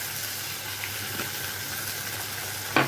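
Soy, tomato and chilli sauces sizzle steadily in a frying pan, a continuous close hiss, with a few soft scrapes of stirring and a sharper clink near the end.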